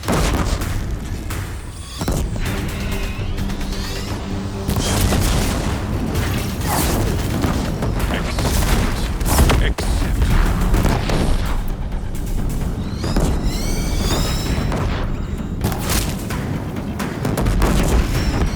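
Deathbringer war machines firing in Horizon Zero Dawn, heavy booming artillery-like blasts pounding again and again over a dense, loud battle din, with whirring mechanical sweeps rising between the impacts.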